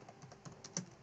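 Text is typed into the Nano editor on a Linux system, with a quick run of soft, close keyboard clicks that ends in one slightly harder keystroke.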